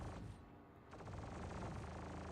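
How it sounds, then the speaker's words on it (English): Point defense cannons on a ship in Star Citizen fire automatically at small ships: a dense, unbroken rattle of rapid shots, steady and fairly loud, with no one talking. "So this ship has PDCs, like point defense cannons, and they'll target ships"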